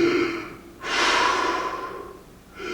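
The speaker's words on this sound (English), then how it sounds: "how about a little deep breathing?" A performer in a staged production of Samuel Beckett's Waiting for Godot takes one long, loud, deep breath, a sustained airy rush lasting over a second, with quieter breathy sounds before and after.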